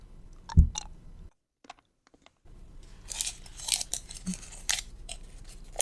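Small candies being eaten right at the microphone: close, soft crunching and wet mouth sounds with brief pauses, quiet and intimate, no talking.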